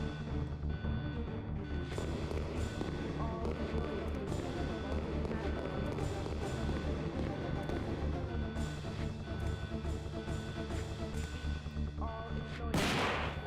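Shotgun blasts from the Resident Evil 2 Classic video game, played as Leon, sounding as loud repeated booms over constant game music and effects, with speech partly underneath.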